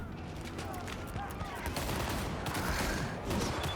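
Gunfire in the video game Cyberpunk 2077, dense rapid bursts of shots crackling in a continuous fusillade, with a voice talking over them.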